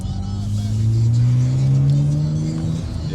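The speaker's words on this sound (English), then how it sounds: "That's his car." A car drives past close by, its engine hum rising and swelling steadily, then easing slightly as it moves on. Faint voices may sit beneath it.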